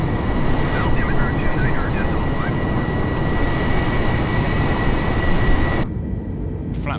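Airbus airliner engines in Microsoft Flight Simulator 2020 climbing after takeoff from Bristol, a steady loud broadband roar holding throughout before dropping suddenly near the end, with faint tonal whine above.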